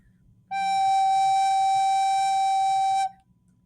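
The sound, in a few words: recorder playing the note G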